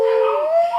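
Belle, a pet dog, lets out one close, sustained howl that wavers in pitch and tails off into a whimper, loud and alone.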